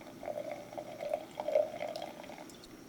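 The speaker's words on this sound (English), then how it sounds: "I poured myself a tiny little glass here" Champagne pours into a small tasting glass with a gentle, steady trickle and faint fizzing bubbles, quiet and close, with no talk.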